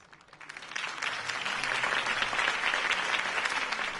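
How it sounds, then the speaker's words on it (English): Steady applause in the video game Batman: The Telltale Series that swells up from quiet within the first second, then holds as a dense, even clapping from a crowd. "If only Mr. Wayne, my campaign's largest backer, could have heard that applause"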